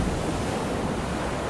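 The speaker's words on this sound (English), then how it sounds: "Great waves fell noisily onto the deck, covering the Nan Shan in water from top to bottom." Heavy storm seas pound a ship's deck in a dense, unbroken roar of surf and wind, loud and close throughout with no voices.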